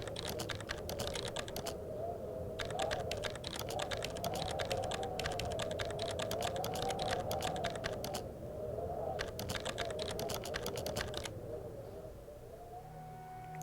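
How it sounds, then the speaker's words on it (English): Fast typing on a computer keyboard, dense rapid key clatter in long bursts with brief pauses, close and steady over a constant droning background tone. "I wish I could type this fast."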